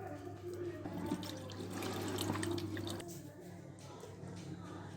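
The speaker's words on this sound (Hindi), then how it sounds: "ये देखें व्यूअर्स, मैंने मछली को धो लिया अच्छे तरीके से" Tap water runs steadily while fish is washed in a home kitchen sink, a continuous splashing rush with a steady low hum beneath it, easing slightly toward the end.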